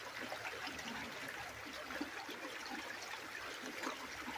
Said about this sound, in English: And then I just splash like crazy.